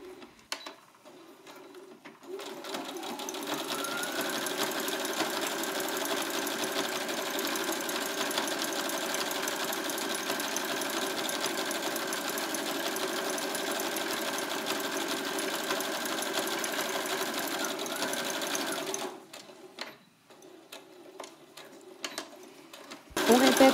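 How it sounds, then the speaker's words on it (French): A sewing machine runs a seam 1 cm from the edge along the facing of a puffer jacket, whirring steadily and loudly for about sixteen seconds before stopping, with quiet handling sounds before and after. "On réalise une couture à 1 cm du bord le long de la parmenture."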